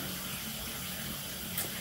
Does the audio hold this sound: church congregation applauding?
no